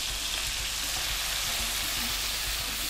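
About two onions sizzle loudly in a hot pan of oil while cooking for a chicken tikka masala, a dense, continuous crackling hiss with no talking over it.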